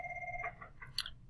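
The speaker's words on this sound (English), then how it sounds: "so the phone rang and I paused it" A telephone rings once, faint and brief, its steady electronic tone breaking into a short warble over low room hum.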